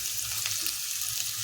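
Paneer sizzles in a pan with onion, green chili and ginger paste, a steady bright frying hiss with faint bubbling and stirring underneath, no voices.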